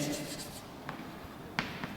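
Marker or chalk scratching on a board during a physics lesson, a few short scribbling strokes spaced out over quiet room tone.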